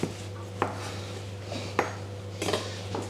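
A knife cuts through pasta dough on a floured chopping board, making a few sharp, separate clacks against the wood over a low steady hum, close and fairly quiet, with no talking.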